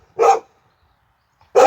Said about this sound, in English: Sorry, guys, about the dogs.